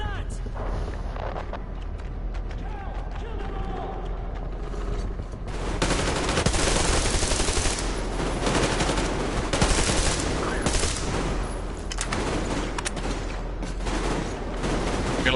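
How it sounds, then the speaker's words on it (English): Covering gunfire in the Metro Exodus game, with dense, continuous bursts of shots and heavier volleys swelling from about the six-second mark, loud and sustained across the whole stretch. "Covering fire for the Colonel."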